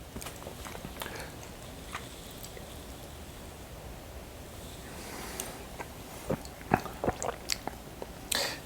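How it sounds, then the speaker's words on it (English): Someone chewing a pecan while tasting whiskey, a close, soft crunching and mouth-noise that builds into sharper bites and cracks toward the end, with no talking. "chew the pecan, get the pecan flavor in your mouth"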